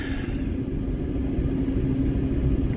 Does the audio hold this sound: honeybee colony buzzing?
no